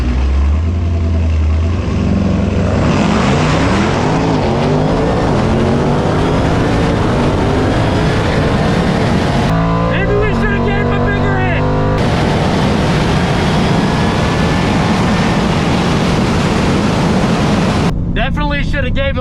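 A Jeep Trackhawk launches in a drag race with its engine roaring loud and close. The revs climb steadily through a long, sustained run with a brief shift break midway.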